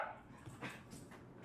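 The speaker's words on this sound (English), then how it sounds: "Y'all are just going to have to deal with the puppy barking." A puppy gives a few short, muffled yips and whimpering barks indoors, faint and somewhat distant, in a brief burst.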